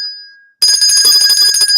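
A small hotel desk bell rings once with a clear ringing tone and fades, then a dense, busy burst of bright metallic jingling fills the rest of the moment, loud and close.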